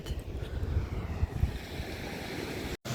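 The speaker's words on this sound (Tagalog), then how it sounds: "And then, ito yung dagat." Sea surf rolling in near a hotel on a spring trip in Japan, a steady wash of waves mixed with gusty wind buffeting the microphone, with no voices.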